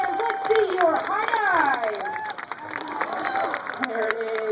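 Audience applause and cheering for a diving performer at a New York aquarium show, a dense, steady crowd wash with rising whoops and whistles throughout.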